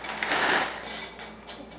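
Dried chickpeas pour into a measuring cup in a home kitchen, giving a dense, close rattling patter that swells and then tapers into a few scattered clicks as the last peas settle.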